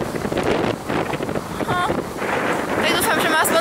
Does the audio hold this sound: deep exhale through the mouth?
no